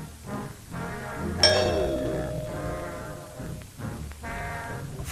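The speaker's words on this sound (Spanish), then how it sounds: "alguien había tocado el timbre" A doorbell rings with a clear two-tone ding-dong chime that rings out and decays, followed by a second fainter chime over a low room hum.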